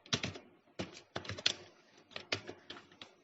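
Keystrokes on a computer keyboard while entering button text in an Android app layout, a series of close, distinct clicks in short irregular bursts with brief pauses between them, and no voices.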